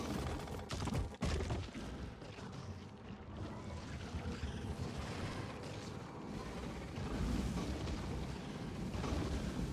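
Video game explosions going off over a uranium stockpile at a nuclear megabase, a dense rumbling barrage of blasts with sharp bursts early on, then a sustained roaring wash of detonations, loud and continuous.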